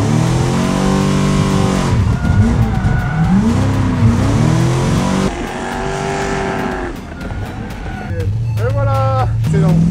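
A drift car revs hard and accelerates with rising engine whine and squealing tires, loud and close, with people talking over the engine noise.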